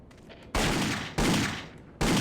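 Three loud, sustained gunshot blasts from a 9mm pistol in Indiana Jones and the Infernal Machine, each sharp onset decaying over roughly half a second, evenly spaced and alone.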